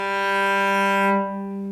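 Cello with its A string tuned down to a natural G, one bowed sustained note ringing clear and alone, then fading slightly as the bow eases off.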